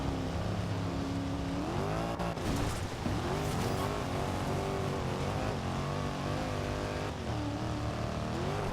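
Maserati engine roaring and shifting pitch during a race in the video game Forza Horizon 2, loud and continuous with rising revs and gear changes throughout.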